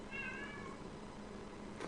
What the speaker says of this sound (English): The cat seems to have something to say.